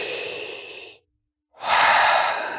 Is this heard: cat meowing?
no